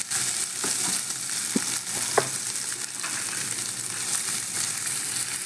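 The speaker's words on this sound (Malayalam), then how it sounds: "വേവിച്ച ചിക്കൻ ഷ്രെഡ് ചെയ്തിട്ട് 1 സ്പൂൺ നെയ്യ് ഒഴിച്ച് അതിലൊന്ന് ചെറുതായിട്ട് വാട്ടിക്കോരണം" Shredded boiled chicken, spiced with turmeric and chili powder, sizzles in a spoonful of ghee in a pan, a constant close frying crackle broken by a few sharp scrapes and taps of stirring.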